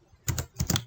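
Quick keystrokes on a computer keyboard while renaming a Photoshop layer: two close pairs of crisp, near taps separated by a brief pause, with no talking.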